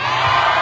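A rally crowd in Santa Cruz, Manila, shouts and cheers in one loud, dense burst, close and sustained for a moment with no break.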